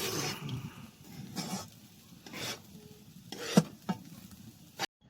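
Fried rice is stirred and scraped with soy sauce in a pan, giving irregular rasping strokes and a faint sizzle, with a couple of sharper clacks toward the end.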